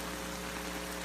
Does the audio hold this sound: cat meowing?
no